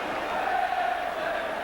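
A football crowd at a Liverpool v Southampton FA Cup fifth-round match roars in a steady, dense wall of noise, loud and sustained throughout.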